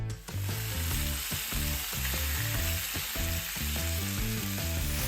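Chicken pieces sizzle hard in a hot frying pan just after being flipped, seasoned with salt and garlic powder. The frying crackles loud and close without a break, with some rhythmic clunking of the pan or utensil underneath and no talk.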